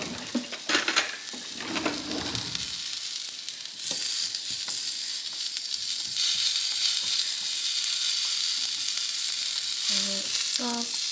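Sausage frying on a cast iron griddle gives a loud, continuous close sizzle, with a few utensil clinks and scrapes near the start and a brief high tone near the end.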